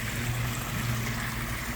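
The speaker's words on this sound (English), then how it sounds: "open the valve, and it overflows from the waterfall" Pond water overflowing from a waterfall in a sand and gravel pond filtration system after a valve is opened, a continuous rushing, trickling wash with a low hum beneath, no voices.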